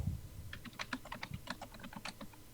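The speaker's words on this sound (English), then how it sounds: "He's typing." Fingers type on a computer keyboard in quick, irregular bursts of soft clicks, faint and close, with no talking.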